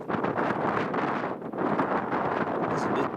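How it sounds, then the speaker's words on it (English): Gusty wind blowing down in Long John Canyon, roaring and buffeting against the microphone in uneven surges, loud and close throughout. "It's a bit breezy down here."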